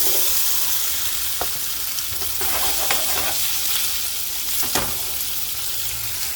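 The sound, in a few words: diced potatoes frying in oil in a pan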